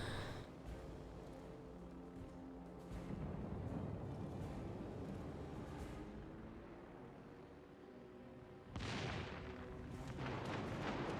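Battleship guns booming in a naval warfare game, a sustained low rumble of heavy fire with a fresh loud salvo near the end.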